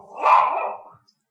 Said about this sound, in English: Wow, that's a loud dog.